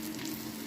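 Crispy mutton chops sizzle in a frying pan, a soft, continuous crackle of hot oil close by and fairly quiet.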